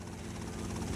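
Helicopter rotor and engine drone in GTA Vice City Stories, a steady, continuous low thrum with a faint rhythmic chop, holding even and fairly close throughout the second.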